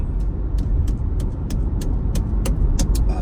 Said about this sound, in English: I'm driving, as you can tell